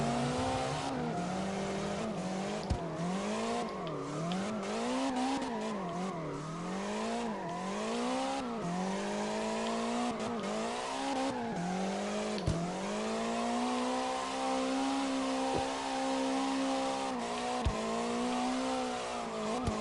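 A drifting car in CarX Drift Racing Online, engine revving up and down in repeated swells with continuous tire squeal, loud and close, plus occasional sharp clicks.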